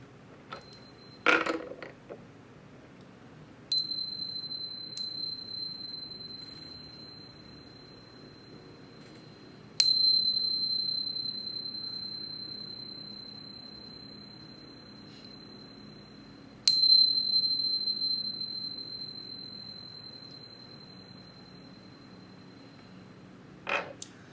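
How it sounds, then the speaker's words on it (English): A chime bell is struck four times with slow gaps before a tarot reading; each strike rings out high and clear, then fades in a quiet room. "let's chime"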